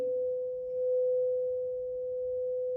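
A single pure, sustained crystal singing bowl tone on the note B, ringing steadily and clearly, with no other sounds.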